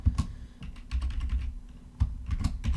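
Keys clatter on a computer keyboard during script editing, quick uneven bursts of clicks with short pauses between, close and clear with no talking.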